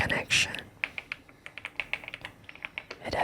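Clacky keystrokes on an Epomaker Galaxy100 mechanical keyboard, a steady run of close, crisp taps with a brief louder rustle near the start and end.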